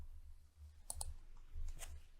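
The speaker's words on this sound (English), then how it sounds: "Just type the @ and begin typing the person's name and click." A computer keyboard and mouse at a desk, a few sharp isolated clicks over a low steady hum, close and fairly quiet.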